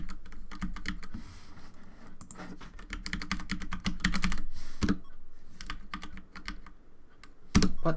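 Rapid clattering keystrokes on a computer keyboard, close and dry, coming in dense bursts with short pauses between them and a couple of louder thumps.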